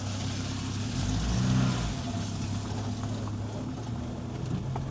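A VW T3 bus creeps along at very low speed, its engine giving a steady low rumble with a slight swell partway through, close and continuous with no talking.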